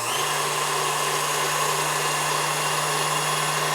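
Electric mixer whipping a sugar-free marshmallow mixture at high speed, a loud, steady motor whine with an even whirring hum, unbroken from start to finish and with no voices.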